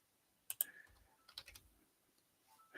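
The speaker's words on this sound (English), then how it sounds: "hitting the plus and minus on my keyboard" Plus and minus keys on a computer keyboard are tapped in a few sparse, quiet clicks, some doubled, with faint background hum and no talk.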